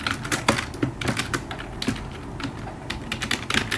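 Rapid, uneven clicking of keys on a computer keyboard as Go code is typed, the keystrokes close and fairly crisp, arriving in short bursts with brief pauses and no talking.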